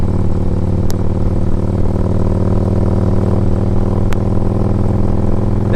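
Steady, loud engine drone from a 2008 Harley-Davidson Ultra Classic 105th Anniversary motorcycle on a test ride, a continuous low rumble with two brief sharp ticks, no voices.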